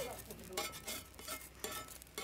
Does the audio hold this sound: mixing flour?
yes